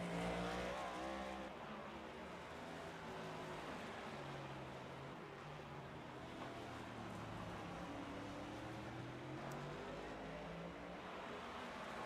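Race cars at the GFi Wild West Coast 60 drive through the S curves, engines droning and shifting pitch as they pass at a distance, a steady layered roar with rising and falling tones.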